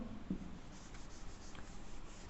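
Chalk or marker strokes scratch across a board while a maths problem is worked out, a brief firm tap followed by steady light rubbing and scribbling, close and alone with no talk.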